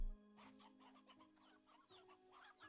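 Quiet, irregular clucking from chickens in the video game Slime Rancher 2, short bursts spread across a few seconds above a soft, sustained background hum.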